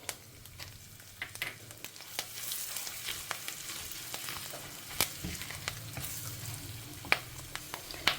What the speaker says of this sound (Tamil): ஸோ கடுகெல்லாம் பொரிய ஆரம்பிச்சுடுத்து, பருப்பு செவந்துடுத்து